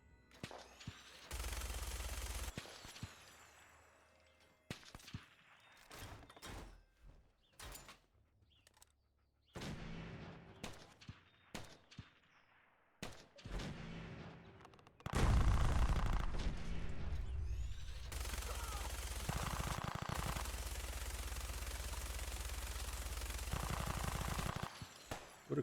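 Gunfire in Fallout 4, a mix of single shots and rapid bursts with gaps of quiet, then a sustained loud stretch of heavy firing and impacts.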